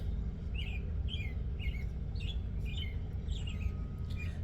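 Several birds chirp at once in short repeated tweets over a low steady background rumble, faint and continuous.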